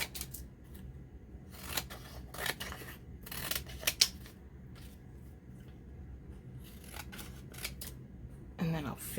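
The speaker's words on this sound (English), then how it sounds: "Just kind of gonna roughly cut this." Scissors roughly snip through stacked paper layers for a handmade Christmas card tag, a run of crisp cutting strokes in bursts with pauses, close and clear, with a person speaking at times.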